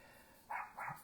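Two sharp barks from the speaker's excited pet dogs, indoors, each a short loud burst, the pair spaced about a quarter second apart and rising clearly over a quiet room.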